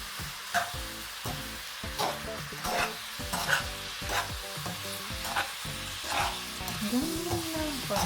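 Food sizzles steadily in a hot pan in a home kitchen while a utensil stirs and scrapes it in repeated strokes, with no talking.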